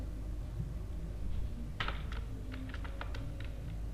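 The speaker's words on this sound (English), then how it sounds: "Then we are going to type few more if conditions" Java code, a few more if conditions, being typed on a computer keyboard: a run of close, light key taps with one heavier press, spread unevenly over a constant low background hum, no speech.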